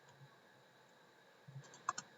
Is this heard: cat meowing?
no